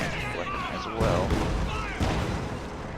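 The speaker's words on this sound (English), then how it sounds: "Stupid barrage going off on the snipers" Artillery barrage exploding in a World War II strategy game, with heavy booms landing about once a second, loud and close, mixed with game voices and battle noise.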